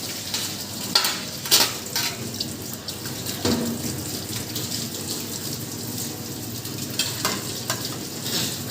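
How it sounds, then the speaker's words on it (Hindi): A thali plate being washed by hand under a running tap, with water splashing and clattering against the metal in uneven bursts, continuous and fairly close, no talking. "स्टेप 1 में आपको अपने थाली है इस तरीके से वॉश करनी है।"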